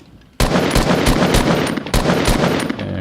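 Rapid bursts of gunfire from shooting in Fortnite, loud and close, with sharp repeated shots in a quick rhythm over about two and a half seconds after a brief quiet start.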